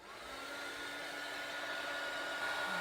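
A dryer blows steadily to force-dry ink on paper, a constant close whooshing hum with no breaks or speech.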